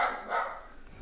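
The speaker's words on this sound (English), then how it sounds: "there goes my dog" A pet dog barks from somewhere in the house, a brief, mid-pitched yelp or two carrying over a quiet room tone with no talking.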